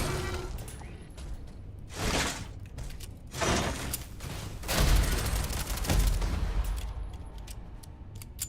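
Gunfire from a weapon in the Starfield video game in survival mode, heard as several loud, broad bursts of shots spaced a second or so apart over a steady, busy background, with no talk.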